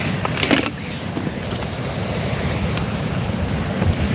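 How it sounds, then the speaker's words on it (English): Steady wind buffets the microphone out on the sea during a kayak fishing trip, a constant broadband roar with splashy surf and gusts close and loud throughout, no voices. "it's just the wind's puffing straight in my face"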